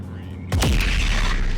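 Sharp double impact of missiles striking a target in the space combat game Freelancer, a loud sudden boom followed by rumbling low blasts that carry on to the end.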